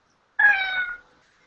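A pet cat named Trixie gives one clear, close meow of just over half a second, rising then trailing off into silence.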